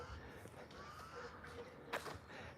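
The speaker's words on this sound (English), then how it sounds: "This is a birdie." A crow calls outdoors, a single loud caw near the end standing out from faint background ambience and softer, distant bird sounds.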